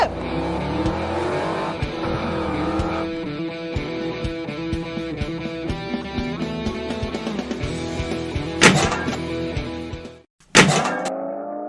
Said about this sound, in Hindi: अरे मेरा ट्रक कहाँ जा रहा है?